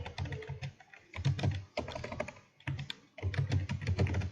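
Rapid typing on a computer keyboard while entering a business description into an online income tax return form, with close, crisp key clicks in quick bursts separated by short pauses.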